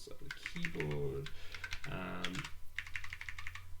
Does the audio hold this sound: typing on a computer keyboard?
yes